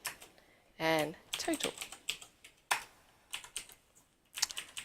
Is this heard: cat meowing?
no